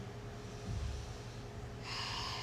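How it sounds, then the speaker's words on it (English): Slow, deep breaths during a gentle yoga flow, close and soft, with a fuller exhale swelling near the middle and a steady airy hiss taking over toward the end, no talking. "And breathe."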